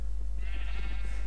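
A sheep in a video game gives one short bleat, moderately loud and close, over a strong low steady hum.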